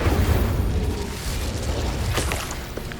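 An Incendio fire spell is cast in Hogwarts Legacy on PS5, a deep booming whoosh of flame with rumbling low bursts and a few crackling flares, continuous and close.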